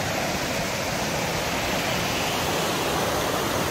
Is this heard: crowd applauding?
no